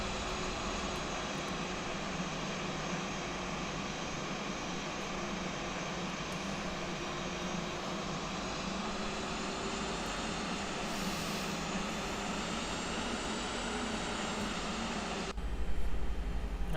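A Flight Factor A320 airliner taxis in X-Plane 11 at Horta in the Azores, its jet engines holding a steady, loud whine and roar with a broad rushing hiss that swells slightly near the end.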